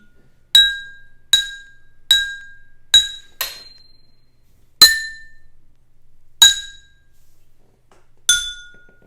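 Water-filled musical glasses struck one at a time to play a tune, eight bright ringing clinks at a steady, slightly uneven pace, each with a short glassy decay, close and clear with no talking.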